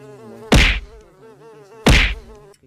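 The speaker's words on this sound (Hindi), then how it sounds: "ये मक्खी कहाँ से आ गई?" A housefly buzzes with a thin steady drone, broken by two loud sharp whacks about a second apart, as if swatted at, no one speaking.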